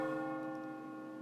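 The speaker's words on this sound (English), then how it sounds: "click clock chime. But I only want it to chime 3 times." A clock chime effect in FX Live sounds as a single sustained, bell-like tone, rich in overtones, that holds steady and fades gently.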